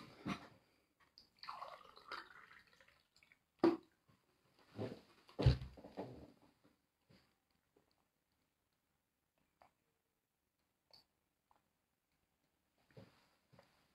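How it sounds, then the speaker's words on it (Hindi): A man drinking water in a quiet room, with a few soft sips, gulps and a glass set down close by, then near silence broken by faint clicks. "मैं क्षमा चाहूँगा, मैं थोड़ा पानी ले लेता हूँ।"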